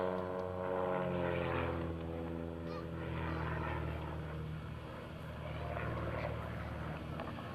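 Pitts S-2S aerobatic propeller plane rolling down the runway center line at an airshow, a sustained buzzing engine drone with strong harmonic whine that swells and eases slightly as it passes.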